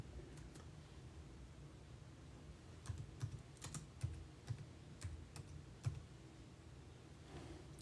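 Faint, irregular computer keyboard typing as a Bible verse is entered, a sparse run of soft key clicks over a steady low hum, with no talking.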